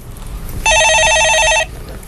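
A telephone rings with a single electronic ring burst of about a second, loud and close against a quiet background as a call to a stock-market call-in show is placed.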